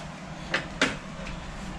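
A big soup spoon wedged into an oven door while drying green onions, giving two brief clicking knocks about a quarter second apart, then a fainter tap, close by over a steady background hum.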